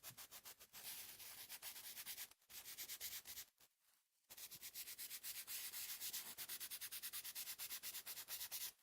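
Sanding on a forged carbon fiber part, a steady raspy abrasive rubbing in fast repeated strokes, close and loud, with two brief pauses partway through.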